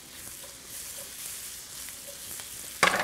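Steady close sizzling of food frying in a pan while making a wild turkey pot pie, a continuous crackling hiss with a brief louder clatter at the end.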